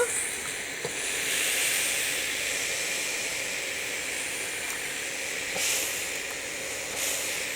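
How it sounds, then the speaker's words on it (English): A clothes iron releases steam near bleached fabric, a steady close hiss that runs almost unbroken, swelling slightly in a couple of spots. "I'm just pressing the steam button"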